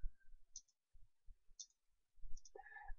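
Light plastic clicks of a computer keyboard spacebar being tapped, a few separate taps spread across a few seconds, close and quiet, with no speech.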